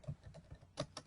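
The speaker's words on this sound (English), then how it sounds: "So then you just type in a note" A handful of quick keystrokes on a computer keyboard while typing a short note, soft clicks close by with no talk.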